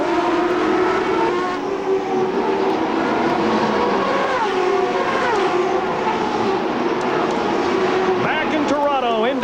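Indy race cars screaming past at the 1994 Molson Indy Toronto street race, a steady loud engine roar with shifting pitch sweeps as cars pass, under continuous commentator talk.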